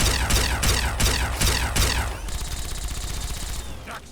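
A companion named Fawkes fires continuously in Fallout 3, with loud rapid bursts of gunfire pounding in a regular rhythm that give way to a lighter sustained rattle and a final sharp shot.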